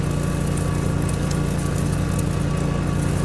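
A lawn mower engine in the video game Lawn Care Simulator drones steadily and loudly throughout, a constant buzzing hum with no pauses and no voices.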